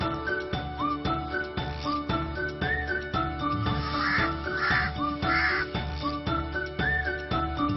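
A crow cawing repeatedly in short harsh calls over a looping backdrop of tinkling, jingling music, the caws recurring every second or so at moderate volume.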